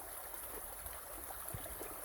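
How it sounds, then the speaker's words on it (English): A small creek flows steadily with a soft, continuous broadband wash of running water, fairly faint and constant throughout with no voices. "one last beautiful look at this lovely creek and the water flowing down it"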